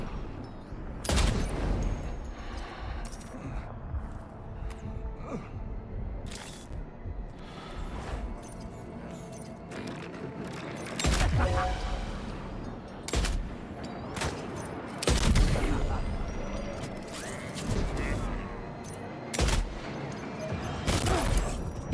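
Gunfire in a shooter video game: bursts of sharp shots crack repeatedly over about twenty seconds at uneven intervals, some close and loud, with mechanical clicks and rattles of weapon handling between the volleys.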